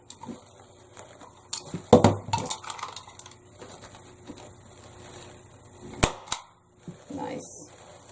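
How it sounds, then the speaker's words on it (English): Sharp hammer blows on a wooden wall hanger being made with a staple gun, a few scattered strikes around two and six seconds, loud and close, with quieter handling knocks between. "Sorry about the hammering, guys."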